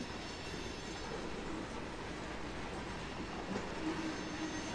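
A freight train rolls in the Run8 train simulator game, a steady low rumble of wheels and cars with faint squeals, continuous and even throughout.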